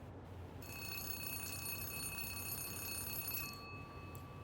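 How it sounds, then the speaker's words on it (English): A telephone rings in the Zero Parades cRPG, a steady electronic trill starting just after the opening and holding for about three seconds over a faint hum, then stopping. "As you turn away, a phone begins to ring."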